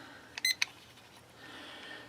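A kitchen-style timer is set for three minutes with a few short, bright electronic beeps close together near the start, then quiet room tone.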